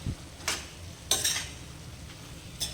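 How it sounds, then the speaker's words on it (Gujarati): Onion sabji with crushed gathiya stirred in a pan, a few separate clinks and scrapes of a spoon against the metal spaced about half a second apart, over a faint low background hum. "તો હવે આપણે એકવાર સારી રીતે મિક્સ કરી લઈએ."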